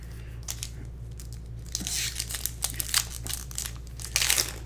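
Foil booster pack wrapper for Magic: The Gathering Adventures in the Forgotten Realms cards crinkles and tears open up close, a run of sharp crackling bursts over a steady low hum, with no talking.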